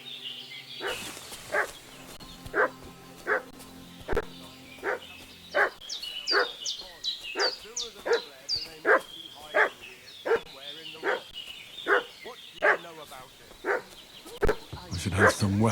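A dog barks in the medieval video game Kingdom Come: Deliverance 2, a long run of regular, fairly loud barks about once a second, with a voice talking over the first part.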